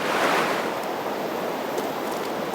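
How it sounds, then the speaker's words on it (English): River water flowing, a continuous broadband rush that stays fairly loud and even throughout, with no one speaking. "Beautiful river."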